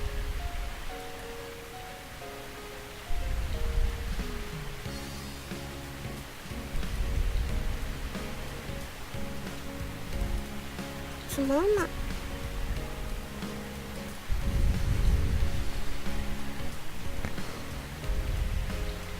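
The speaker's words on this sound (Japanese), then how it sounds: "雨か。" Steady rain patters across a rooftop scene, a soft hiss running throughout beneath background music, with a brief spoken line and a few faint low rumbles.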